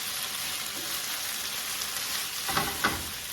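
Chorizo and potatoes frying in a pan give a steady, loud sizzle throughout, with a couple of brief stirring scrapes near the end.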